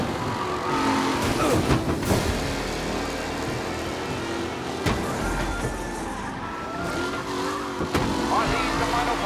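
Race cars in Mafia 1 roar around the circuit with revving engines and tire squeal, passing up close in bursts while a commentator-like voice runs underneath.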